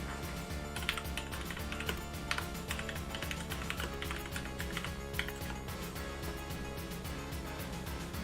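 Quick typing on a computer keyboard, a rapid, continuous patter of close, crisp key taps running unbroken throughout.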